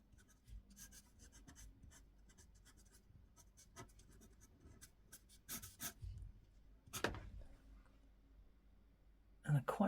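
Pencil or drawing tool scratching line work over paint on a mixed media cow painting, a series of short, close dry strokes and scrapes with brief pauses, with a few louder knocks near the end.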